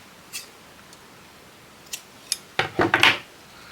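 Scissors snip the tails off a ribbon flower made on a bow maker, a few light clicks first, then a quick close burst of several crisp cuts near the end.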